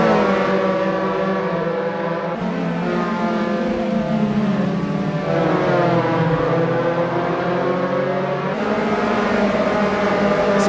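Several Dallara F312 single-seater race cars in the sim Assetto Corsa on the 1976 Kyalami circuit, engines howling and overlapping as they pass, loud and steady with pitch sweeping up and down, and no speech.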